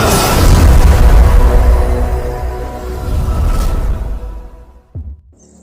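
A VIP bomb firecracker strapped to a Pulsar motorcycle bursts with a loud, deep boom that rumbles and slowly decays over several seconds, followed by a short, sharp thump before near silence.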